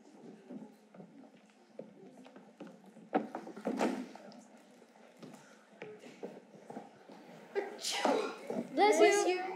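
A girl sneezing on stage during an end-of-year school performance, a few sharp sneezes amid shuffling footsteps and thumps, with voices speaking around them.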